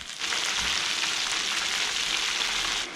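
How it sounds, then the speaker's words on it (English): Scotch eggs with fennel and mustard fry in hot oil, giving a steady, dense sizzle that holds loud and even from start to finish with no voices. "That's what you're looking for. That sizzle."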